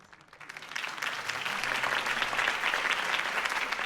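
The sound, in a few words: crowd applause in Batman Telltale video game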